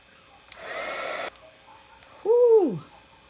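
A heat embossing gun blows on a magazine collage in a single steady whooshing burst of a little under a second. It is followed by a louder, swooping tonal hoot-like sound.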